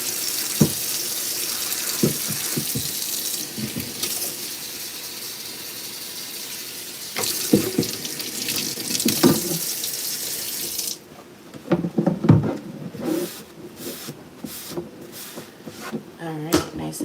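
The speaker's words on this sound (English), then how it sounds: "we'll rinse off and clean my cutting board" Water running from a kitchen tap to rinse a cutting board, a steady splashing rush broken by a few clatters and a change in flow partway through, with a person talking over it.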